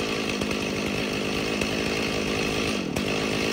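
A Stihl chainsaw engine idles and revs roughly, its buzzing drone wavering and stumbling unevenly, heard loud and close without any talking.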